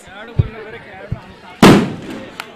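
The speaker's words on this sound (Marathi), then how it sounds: "फटाका वाजलेला आहे" A firecracker goes off at a local tournament's final day: one sharp, loud bang with a crackling burst that decays over about a second, following a few fainter thumps in an outdoor background murmur.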